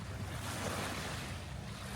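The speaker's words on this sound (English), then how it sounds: "and very calming waves" Gentle waves lapping on a lake, a soft continuous wash mixed with light wind rumble against the microphone, faint and unbroken.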